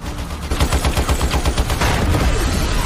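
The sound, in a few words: gunfire from two killers shooting at police in a film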